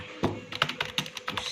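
Typing on a Logitech MK220 wireless keyboard: a quick, close run of soft plastic key presses, about a dozen taps in an uneven rhythm, with no voices.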